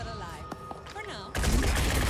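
Gunfire bursts out loudly and abruptly as an overwatch shot in the video game Phoenix Point, following game voice and sound effects. The dense crackle carries through to the end.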